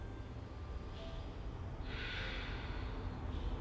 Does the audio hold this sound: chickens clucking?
no